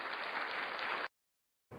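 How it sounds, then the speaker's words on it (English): Brief burst of light applause from a small group, steady for about a second before cutting to silence, then resuming faintly at the end. "So a little applause."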